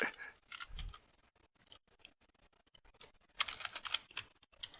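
Computer keyboard typing, a quick patter of light key clicks in bursts with short pauses, fairly quiet and close, no talking.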